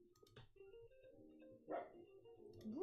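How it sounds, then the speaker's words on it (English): A dog named Winston giving a few quiet yips and short barks with some whining, faint and close, no talk. "Woof, woof."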